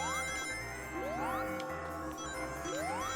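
A chiming bell rings in Sonic Generations on Switch, bright repeated tinkling tones layered over the game's music, fairly loud and steady.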